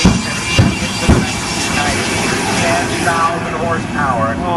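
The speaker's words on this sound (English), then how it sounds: "this jet car powered by a J-34 jet engine used in the United States Navy's trainer" A jet car powered by a J-34 Navy trainer jet engine, running at an air show: a loud, steady broadband roar and whine, with a couple of sharp bangs early on and a public-address voice talking over it.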